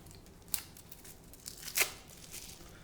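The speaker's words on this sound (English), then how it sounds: "We're going to peel off the plastic here on this cucumber." Plastic wrap being peeled off a cucumber: faint crinkling with a few sharp, brief tearing rips over a quiet background.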